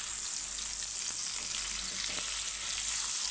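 Fish pieces deep frying in hot oil, a steady, loud, close sizzle that hisses on without a break.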